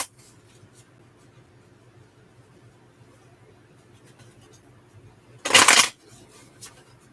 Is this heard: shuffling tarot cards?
yes